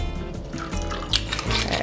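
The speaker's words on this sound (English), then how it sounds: "fill everybody's cocktail glasses with ice and pour it over ice" A blueberry mojito cocktail is poured over ice in a glass, a short, steady liquid stream with light splashing and dripping close by.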